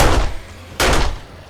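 A pistol fires in the game 7 Days to Die: two sharp, loud shots about a second apart, each a broadband crack with a short decay, with no voices.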